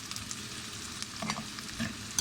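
A large onion fries in a pan with a steady, low sizzle and occasional stirring scrapes, faint and continuous, with no voices.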